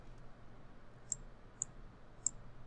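A computer mouse gives three small, sharp clicks spaced about half a second apart, close and distinct over a faint steady hum.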